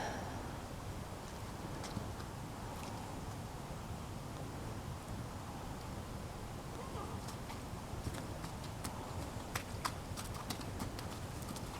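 A horse being lunged, its hooves clip-clopping faintly in a steady trotting rhythm on the ground, wind noise beneath and sharper hoof strikes toward the end.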